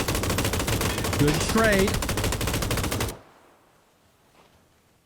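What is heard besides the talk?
gunfire in the video game PUBG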